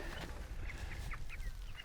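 Broiler chickens cluck and chirp in a field outdoors, a few short, fairly faint calls repeating irregularly over a low rumble of wind or ambient noise.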